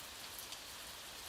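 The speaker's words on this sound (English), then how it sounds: "allow the sound of the rain to blend with the imagined waves" Gentle steady rain falling on a surface, a soft continuous hiss of many drops, faint and even, with nothing else heard.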